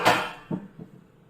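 A lid is set onto a pan of millet cookies with one clear metallic clatter, followed by two softer settling knocks that fade quickly, close and alone.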